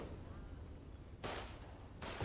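Gunfire in a war video game with frontline infantry combat: two loud bursts of rapid shots crackle out over a low, steady rumble, the second burst cut off at the end.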